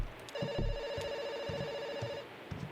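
A telephone rings in the video game Kentucky Route Zero, in the rum colony: a bright electronic trill held for about two seconds, with soft clicks and faint background noise around it.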